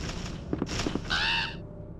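Crows cawing in the Resident Evil 2 video game on PlayStation: a few short harsh caws near the start, then a longer, louder drawn-out cry, over a steady background game hum.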